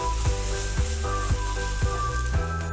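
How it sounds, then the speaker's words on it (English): Garlic cloves and cluster beans sizzle as they brown in a small amount of oil, giving a steady close-up frying crackle with periodic stirring or scraping sounds running throughout. "Now we will brown this garlic along with this cluster bean."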